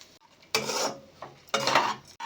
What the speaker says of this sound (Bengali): ডাল, চাল আর মশলার সাথে খুব ভালো করে মিশিয়ে নিয়েছি।